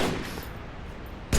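Gunfire in Halo 3 on the Narrows map, a rapid burst of shots with a louder blast at the very end, no talking.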